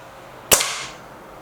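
A single sharp crack from a Crosman Silverfox Nitro Piston air rifle fired at bottle tops, loud and close, with a brief fading tail and no talking.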